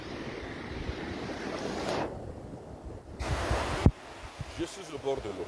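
Waves washing in at the water's edge, a steady broadband surf wash with gusts of wind noise on the microphone, breaking into irregular surges near and moderately loud.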